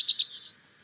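A brief, high-pitched bird song phrase opens with a tiny tick and a few quick rising notes, clear and close, fading out within half a second into near silence.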